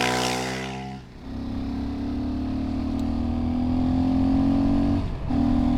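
A Fantic Caballero 500 Rally single-cylinder motorcycle under way, its engine note climbing steadily through the gears with two brief dips at shifts, loud and close with wind noise.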